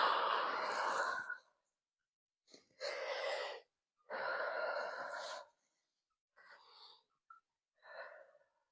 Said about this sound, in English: big deep breath